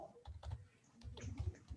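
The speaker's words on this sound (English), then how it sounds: "I'm also typing my email ID in chat box" Soft clacking keystrokes on a computer keyboard tap out in short irregular clusters, faint and close, with no one speaking.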